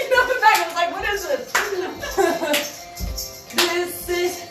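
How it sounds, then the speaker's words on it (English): Hand claps in a steady step-and-clap pattern during a mindful movement exercise, several sharp claps about once a second mixed with music, with a voice speaking between them. "Step and clap."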